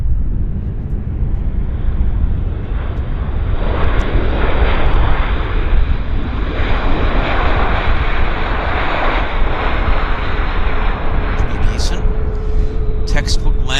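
A jet airliner lands at Vancouver Airport in strong wind, its loud broadband engine roar steady and close throughout, with voices talking over it.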